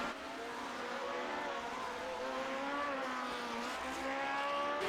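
Engine notes of race cars in a sim racing game, including a Marlboro McLaren diving up the inside into turn one at VIR, a steady loud whine with shifting pitch and several cars close together.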